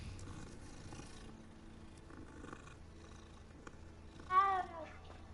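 A cat in the video game Hogwarts Legacy gives a single clear meow near the end, over a faint purring and quiet game ambience.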